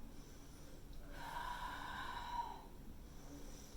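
A slow, soft exhale through the nose during a Hatha yoga pose, a faint airy breath swelling in the middle and fading out.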